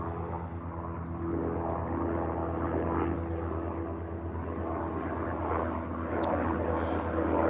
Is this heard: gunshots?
no